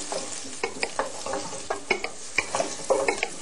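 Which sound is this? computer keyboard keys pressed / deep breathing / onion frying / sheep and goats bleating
onion frying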